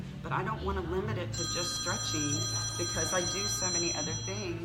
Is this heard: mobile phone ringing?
yes